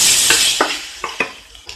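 Chickpeas with asafoetida and turmeric sizzle in a hot pan while a spoon stirs and scrapes in several distinct strokes, the frying hiss fading over the short stretch.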